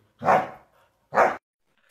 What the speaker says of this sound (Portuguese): O cachorro tá aqui do lado, tá.